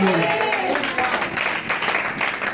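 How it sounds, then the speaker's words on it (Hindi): A church congregation claps loudly and steadily for a couple of seconds during a Hindi-language sermon, with a dense wash of applause and a voice running underneath. "ताली बजाए जोर से, जोरदार ताली बजाए"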